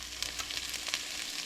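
Shredded cabbage and carrots sizzle steadily in olive oil in a one-pot pan, a continuous close hiss and crackle with small bursts and no talking.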